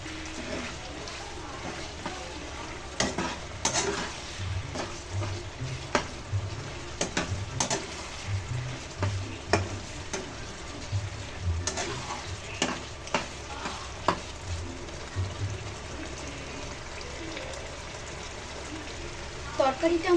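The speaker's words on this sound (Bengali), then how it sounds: "এবার একটা ঢাকনা দিয়ে আস্তে করে ঢেকে 5 মিনিট ফোটাতে হবে।" Vegetable curry simmers under a lid in a pot, with a soft, continuous bubbling hiss and intermittent low pops and ticks over twenty seconds.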